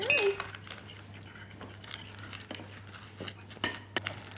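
A small boy stirs food round a bowl with a spoon at mealtime, producing scattered light clinks and scrapes of metal on crockery, close by, with soft background voices and domestic room noise.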